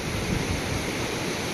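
River water rushes and washes steadily around bare feet at a High Sierra hot springs spot. The broadband, close, continuous flow holds steady with no voices.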